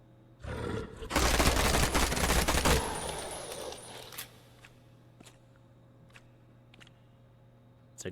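Gunfire from a gun-wielding ghoul in a horror video game, a dense loud burst of rapid shots lasting a couple of seconds, then fading to sparse clicks and quiet ambience.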